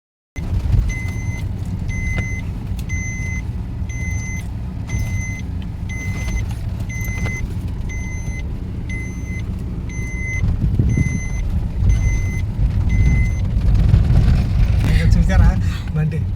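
A road vehicle drives steadily with its engine rumbling low, while a reversing alarm beeps in a regular repeating pattern throughout; voices talk faintly in the background near the end.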